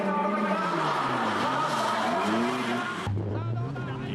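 Drift cars in a D1SL competition at Maze, engines roaring loud and close with tire squeal through the run, then an abrupt shift to a lower steady drone near the end, with a commentator's voice over the action.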